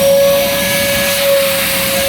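A vacuum cleaner running nearby, a loud, steady whirring drone with a constant high tone and no break.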